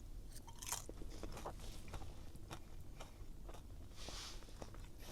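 Biting and chewing crispy grilled skin on the fatty belly of a rare, high-grade sea fish caught off a small rocky shore: close, quiet crunches and crackles in a steady chewing rhythm, with no talk.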